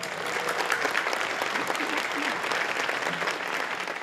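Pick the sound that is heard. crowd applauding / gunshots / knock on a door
crowd applauding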